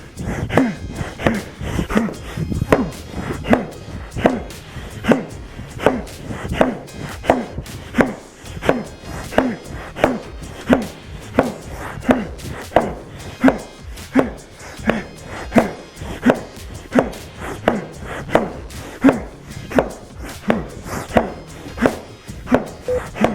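Rapid, steady chopping blows of an axe into wood during a timed lumberjack-style workout, dozens of sharp close impacts in a fast regular rhythm over the whole stretch, with occasional breathy effort sounds.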